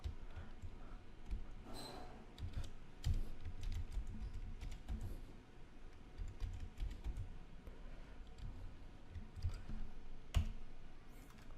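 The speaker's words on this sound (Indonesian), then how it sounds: "kita ketik dalam bahasa Indonesia aja ya teman-teman" Someone types a query on a computer keyboard with steady, fairly quick clicking keystrokes, close and moderately quiet, with no talking.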